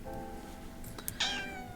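A house cat gives a short meow near the end after some faint rustling, fairly close and with nobody talking over it.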